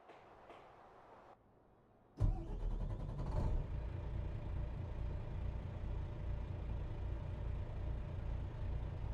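A truck engine in American Truck Simulator, a brief quiet stretch before the engine bursts in loudly and settles into a steady, rumbling drone that holds to the end.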